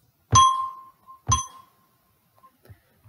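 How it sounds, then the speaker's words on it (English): Note C struck twice on a chime bar, each hit a bright metallic ring that fades over about a second, the second strike following soon after the first, with a few faint knocks afterward. "So if I play the note C, on my chime bar, it sounds a bit like this."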